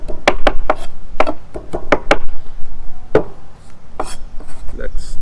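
Cilantro gets a rough chop with a knife on a cutting board, sharp close knocks that come in quick bursts of two or three strokes with short pauses between them, and no one talks.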